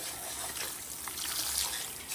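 Very warm, steaming water runs steadily over a salon client's hair during a rinse, a continuous close splashing trickle with no talk.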